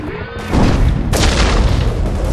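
High explosive charge detonating in Enemy Territory: Quake Wars, a loud close boom with a broad rumbling blast that swells and holds through the clip.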